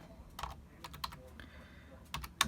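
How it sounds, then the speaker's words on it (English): Someone types with one hand on a computer keyboard, producing sparse, uneven key clicks with small gaps between presses, close-up over a low background hum. "I'm going to try to type with one hand here"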